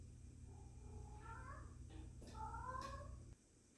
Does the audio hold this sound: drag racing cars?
no